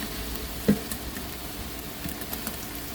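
Golden-fried onions with ginger paste and lemon pieces sizzle softly in a pan, a faint steady hiss with one brief clack near the start and no talking.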